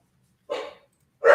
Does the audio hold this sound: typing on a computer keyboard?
no